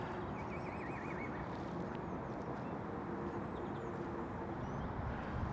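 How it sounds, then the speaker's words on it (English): Horses in a rural field near Sawtry give a faint, distant whinny over a soft, steady outdoor hiss. "Just noticed there's a field full of horses"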